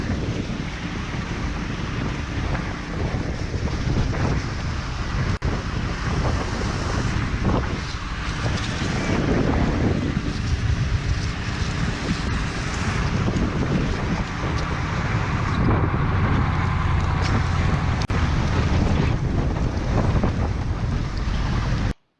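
Wind roars steadily and loudly across a microphone at a wildfire, a dense buffeting rush with no letup and no talking.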